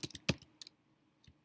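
A computer keyboard being typed on in short bursts of crisp clicking keystrokes, close and fairly quiet, with pauses between groups and no talking.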